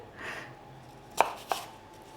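Kitchen knife slicing apples on a cutting board for a salted maple apple galette: two quick, crisp cuts close together, faint and close against a quiet room.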